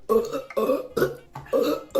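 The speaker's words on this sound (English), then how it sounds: "It's so much burping." Four loud, close burps in quick succession over about two seconds, each a voiced, drawn-out belch with short gaps between, performed by a person as a gross party trick.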